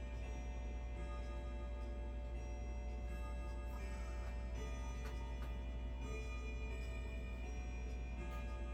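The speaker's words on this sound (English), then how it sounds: "A big grandfather clock." A big grandfather clock ticks with a faint, steady rhythm over a constant low hum of room noise, with no one talking.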